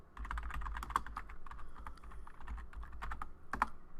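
Rapid, steady keystrokes on a computer keyboard during Cisco switch console configuration. The clicks are close and fairly loud, clustering into quick bursts with brief pauses, and there is no talking.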